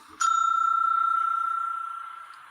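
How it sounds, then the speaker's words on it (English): A single strike of a small bell gives a bright ding with a clear ringing tone that rings on and slowly fades over about two seconds, alone and close. "I'm actually going to give myself a little bell on here"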